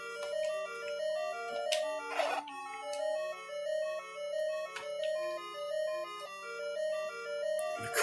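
A simple recorder melody from The Legend of Zelda plays as a bright, reedy tune of stepped notes over a soft sustained low tone, with a short noisy burst midway.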